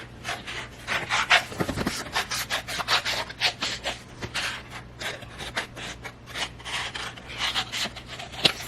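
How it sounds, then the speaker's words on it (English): Scissors snip steadily through painted paper as butterflies are cut out, a close, continuous run of crisp cuts and rustles with no talking. "So just gonna cut out these butterflies."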